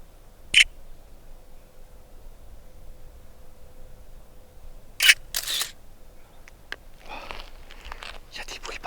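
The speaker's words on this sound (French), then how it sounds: "Je vais faire quand même une photo." Two crisp camera shutter clicks about four seconds apart, taken outdoors during an exploration in Los Angeles, with faint rustling, breathing and soft handling noises between them and a steady low hum underneath.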